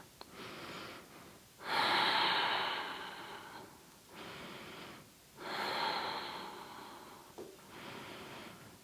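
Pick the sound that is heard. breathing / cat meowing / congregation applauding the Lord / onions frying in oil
breathing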